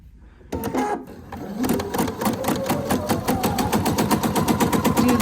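A sewing machine stitches quilt fabric for half-square triangles, starting abruptly and then running as a fast, steady, close mechanical clatter.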